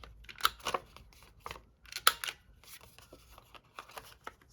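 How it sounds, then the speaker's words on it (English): A corner rounder punch trims paper corners, giving a few sharp crisp clicks and snips with quiet paper rustling between them, close by. "I'm going to cut off the edges here. And use my corner rounder."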